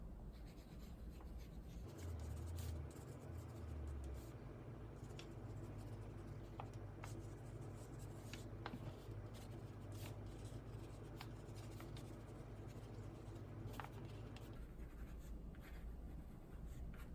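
Light pencil strokes on a handmade gift basket tag or paper, faint scratchy sweeps and small taps spread across the stretch beneath a steady room hum, with no voices.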